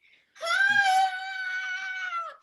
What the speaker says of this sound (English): The dog was screaming for him.